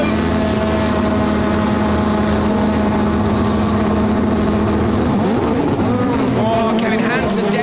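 A rallycross car at the 2019 World Rallycross of Sweden revs hard on the start line and launches away, a loud, steady engine drone with shifting pitch, heard from onboard under a commentator's voice.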